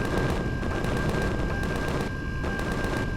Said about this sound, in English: He's shooting at the base.